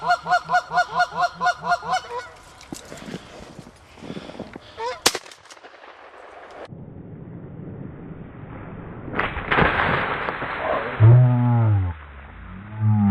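City geese honk during a nuisance goose hunt, starting with a rapid run of loud, close calls, followed by scattered gunshots and thumps, then more honking later with people talking in the background.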